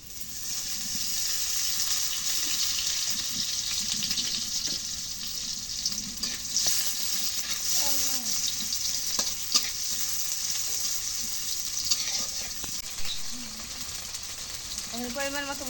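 Oil sizzling and frying in a pan while cooking lentils with bottle gourd, a continuous hiss with occasional crackles and stirring clinks, fairly quiet and steady throughout.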